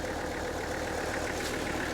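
A tractor engine runs steadily at close range while a chain takes the weight during a sawmill timber recovery, its broadband rumble constant and unbroken for the whole stretch.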